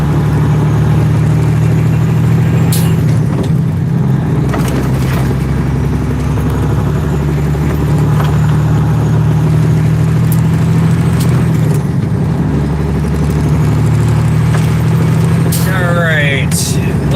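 Heavy rush hour road traffic heard from inside a loaded truck cab in high winds, with a constant low engine drone and passing vehicles, plus a brief chirping sound near the end.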